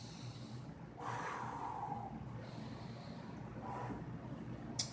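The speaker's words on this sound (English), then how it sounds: "I'll just take a couple deep breaths in here." Slow, deep breaths taken while pressing into an exercise ball during a beginner core workout, a long airy inhale followed by a softer exhale, close and quiet against a steady background hum.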